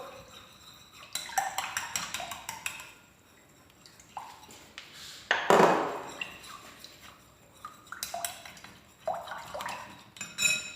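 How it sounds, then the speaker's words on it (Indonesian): A spoon stirs water and baking soda in a bowl, giving repeated clinks and scrapes against the bowl with some liquid sloshing, close and moderately loud, with no talk. "Kita campur dengan soda kue atau baking soda."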